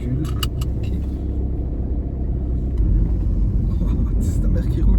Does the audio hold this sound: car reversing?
yes